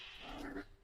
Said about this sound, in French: Ça, c'est juste Blue qui grogne